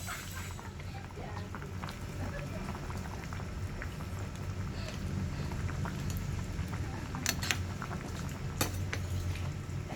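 Sinigang na bangus, a milkfish soup, simmers uncovered in a pot, giving a steady, close bubbling hiss with faint pops and small clinks throughout.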